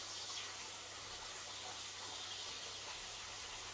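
Bacon frying in a pan over low heat at a farm breakfast: a steady, soft sizzling hiss with a faint low hum, continuous and even throughout, no talking.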